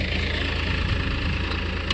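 Tractor engine running steadily while spreading manure on a farm field, a continuous low idling rumble with vibration, close and fairly loud, no talk.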